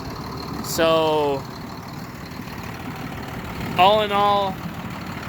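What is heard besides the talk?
John Deere 7800 tractor engine idling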